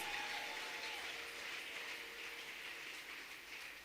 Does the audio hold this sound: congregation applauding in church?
yes